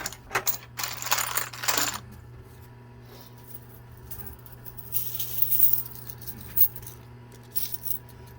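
Quarters clinking and dropping inside a high-limit casino coin pusher machine, bursts of metallic jingling near the start and again later over a steady mechanical hum.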